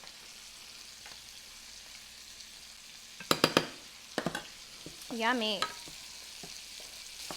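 Quinoa sizzling in a pan with shallots, golden raisins and sun-dried tomatoes, a steady frying hiss broken by loud close stirring scrapes, and a brief spoken word near the end.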